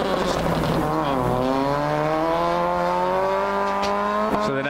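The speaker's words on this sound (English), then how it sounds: "Listen to Roland's car. Sounds like a popcorn machine." Dirt track race car at Airborne Speedway in Plattsburgh, NY, its engine faltering and popping with a ragged, sputtering drone that holds steady throughout, nearby and loud.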